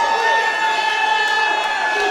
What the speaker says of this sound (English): this crowd has become unglued here at the tank